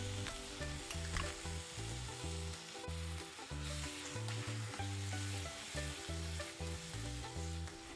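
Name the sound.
sauteing masalas and green peas in a pan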